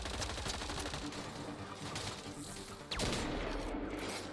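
Rapid volleys of Valkyrie rifle fire in Mass Effect Andromeda, a steady crackle of bursts under game ambience, with a sharper, louder burst near the end.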